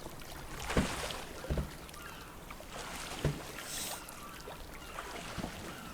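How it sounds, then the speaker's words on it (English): Canoe gliding across water in a video game, soft continuous water wash with a few quiet paddle splashes at intervals, faint and steady throughout. "Nice little canoe rides."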